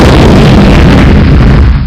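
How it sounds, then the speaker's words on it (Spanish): A loud, sustained explosion roars through the whole stretch, a dense broadband boom that fades slightly at the end, with no voices. "una gran explosión, ¿no?"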